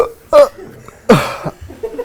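Two sharp, abrupt hiccups from a person who has just eaten hot chili, loud and close, separated by a short pause with faint breathing and background murmur.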